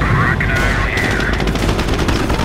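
Rapid bursts of machine-gun and rifle fire in the World War II video game Company of Heroes, loud and continuous with booming impacts, under shouted battlefield voices.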